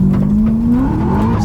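A drifting car in a parking lot keeps its engine droning steadily while the tires squeal and skid, loud and close, with a person speaking over the noise.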